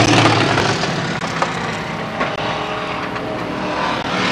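Race cars roar side by side on a dirt speedway at Selinsgrove, a loud, steady engine drone with a slight rise and fall as they pass, with no voices over it.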